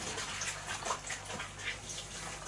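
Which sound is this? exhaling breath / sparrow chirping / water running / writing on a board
water running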